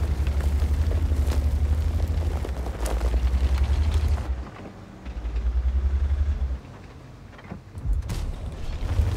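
Heavy tank cannon blasts from an IS3a tank in a tank video game, deep booming reports over a constant rumbling engine drone, with mechanical clanks between shots.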